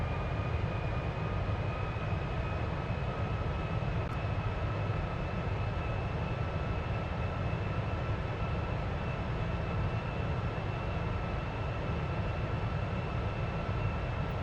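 Boeing 747-400 jet engines in the flight simulator FSX drone with a constant, even roar and faint high whine throughout, steady and unbroken with no one talking.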